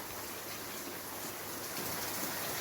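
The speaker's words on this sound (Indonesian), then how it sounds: "Dengan penyiraman ini ya, semua mendapatkan air. Tuh kan seperti ada hujan" Overhead watering of a vertical garden, a steady dense hiss of water spraying and falling like rain, close and continuous for a couple of seconds, no voices.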